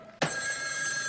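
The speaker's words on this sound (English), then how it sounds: "Igor, answer this phone, quickly." A telephone bell starts ringing abruptly and keeps up a loud, continuous metallic trill close by, with no voices.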